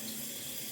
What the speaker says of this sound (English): let's open the water.